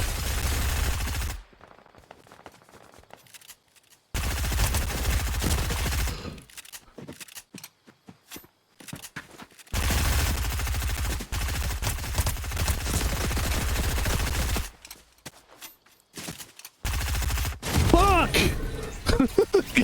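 Fortnite gunfire comes in rapid bursts of shots separated by quiet gaps, loud and close, with a player talking between and over the volleys.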